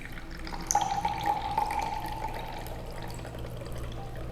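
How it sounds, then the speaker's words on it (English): Supernatant liquid pours from a soil mixture into another container, a steady soft trickle of water running for several seconds at close range with a faint background hum. "Now the supernatant is carefully poured out into another container."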